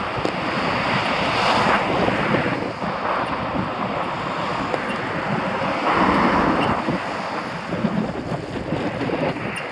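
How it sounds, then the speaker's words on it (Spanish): Strong west-northwest wind buffets the microphone outdoors near Porriño, a steady loud roar with gusty surges throughout and no talking. "El aire sopla del oeste, noroeste"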